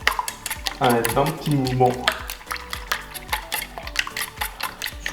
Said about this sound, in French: à l'aide d'un fouet, on va venir tout simplement, alors déjà, casser petit à petit les jaunes